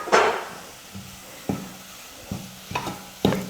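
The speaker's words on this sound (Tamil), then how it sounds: "பாதாம் சேர்த்து நல்லா மிக்ஸ் பண்ணதுக்கப்புறமா ஸ்டவ் ஆஃப் பண்ணிக்கிறேன்" Spoon stirring grated almonds into a thick chocolate mixture in a pan on the stove: a series of scraping, knocking strokes at an uneven pace, close and moderately loud, with a faint sizzle underneath and no talking.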